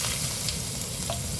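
Ginger frying in a pan, a steady close hiss of oil with faint stirring scrapes throughout and no voices.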